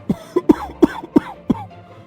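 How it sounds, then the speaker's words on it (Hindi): An old man coughs five times in quick, hoarse bursts, close by, with short pauses between each. "तभी खटिये पर से बूढ़ा रामा खांसते हुए"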